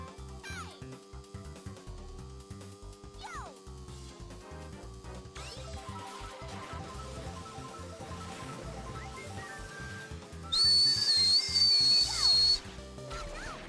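Someone whistles the Mario Kart Double Dash tune in a brief, loud, high burst near the end, over continuous Mario Kart DS game music and effects.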